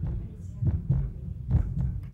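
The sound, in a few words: giraffe heartbeat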